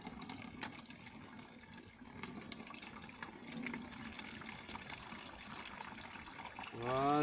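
Liquid fertilizer poured from a bucket onto tomato plants, a steady soft trickle and splash close by that swells into a louder gush at the end.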